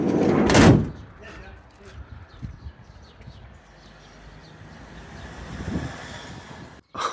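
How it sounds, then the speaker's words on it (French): A repaired vehicle side door shuts with a loud slam, then quieter handling noises follow, and a brief latch or lock clunk comes near the end. "Maintenant, on va voir si la porte se ferme mieux. Se verrouille."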